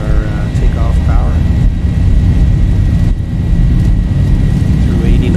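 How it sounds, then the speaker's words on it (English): Boeing 737 engines in a flight simulator hold a steady, heavy roar while spooling up to takeoff thrust, loud and constant throughout with a faint tone riding on top. "The auto thrust is automatically setting our takeoff power"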